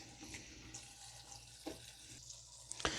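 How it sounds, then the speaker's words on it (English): Water runs in a slow steady stream from a filtered-water tap over chokecherries in a bowl, a soft continuous splashing with a few small drips and clinks, close and fairly quiet. "this water tap is connected to our filter system"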